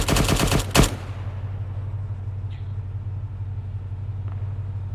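A burst of automatic gunfire from the ArmA 3 infantry game opens loud and close over roughly the first second. A low, steady rumble holds underneath and continues alone after the shots stop.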